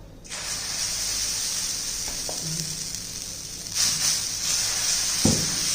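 Dosa batter hits a hot, oil-wiped griddle and a loud, steady sizzle and hiss fills the scene, with a few soft scraping taps partway through.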